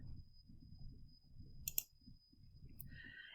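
A computer mouse gives a couple of quick, close clicks in the middle of a quiet stretch, with low murmuring background underneath.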